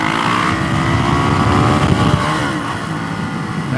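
A Yamaha YZ400F dirt bike engine runs in first gear during a ride on a new tire, with a loud, steady, close-up roar and rumble that dips slightly near the end.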